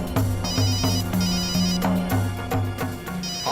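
A mobile phone ringtone plays loud and close, a repeating bright electronic melody with pulsing tones cycling several times with no voices.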